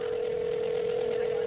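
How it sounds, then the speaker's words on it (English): A steady telephone dial tone drones through a test call to 911, held at an even level with a faint blip near the end. "We did a test call to 911."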